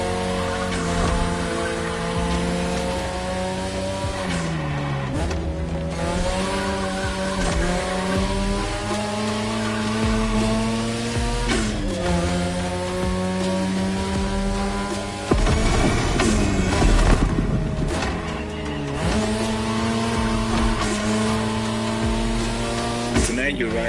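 Race cars roar and their tires squeal through turns in a street racing video game, with engines rising and falling in pitch over continuous loud play and a voice talking over the action.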